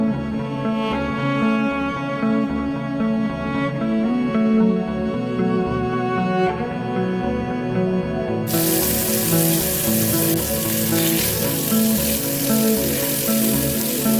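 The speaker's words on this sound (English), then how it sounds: "Just listen to this sizzle sound," Marinated chicken tikka sizzles steadily in a well-oiled pan, a loud continuous frying crackle with no talk, growing brighter and hissier partway through.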